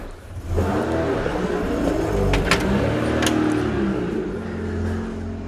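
A car drives past in a small harbour town street, with a steady engine and tyre rumble that holds through the clip and fades slightly at the end.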